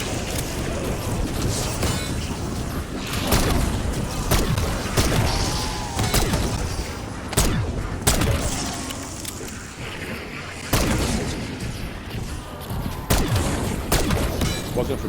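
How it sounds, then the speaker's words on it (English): Pistol fired from the hip in Call of Duty zombies mode on the Terminus map, a string of sharp, loud shots spaced irregularly across the stretch amid dense game noise and mechanical clatter. "Could definitely just hip fire this pistol all the live long day."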